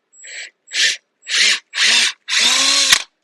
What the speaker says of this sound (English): Probably just eventually drill the head off of it. It's just a button head